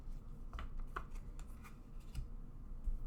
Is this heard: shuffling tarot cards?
yes